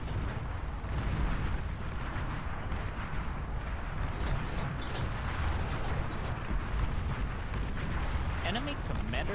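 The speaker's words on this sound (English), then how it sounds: "Firing more napalm." Napalm strikes fire and explode across a 32-player Beyond All Reason real-time strategy battle, a dense, continuous roar of booming blasts and crackling bursts rolling without pause, loud and close throughout.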